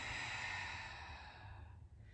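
A long, deep exhale from a person in a Pilates mat class, a steady breathy rush held for about two seconds before trailing off, close and soft.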